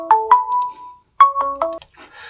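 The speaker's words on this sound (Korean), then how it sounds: "제가 우리 또 한건석 협회장님한테 전화가 오시네" Phone ringtone for an incoming call, two short bursts of bright electronic tones separated by a brief gap, loud and close with no talking.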